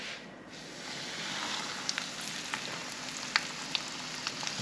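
Fish sizzling steadily in hot oil in a pan, a dense continuous frying hiss with a few small pops and crackles, fairly close and alone without talk.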